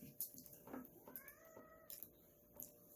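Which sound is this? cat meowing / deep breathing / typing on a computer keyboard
cat meowing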